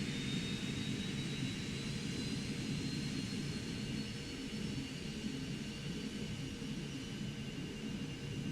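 Cessna Citation Mustang jet engine spooling up in X-Plane, a steady low roar under a thin rising turbine whine with faint tonal lines, constant and unbroken, no talk.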